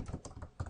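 Quick keystrokes on a computer keyboard while entering network configuration commands, a short close burst of several soft clicks in rapid succession.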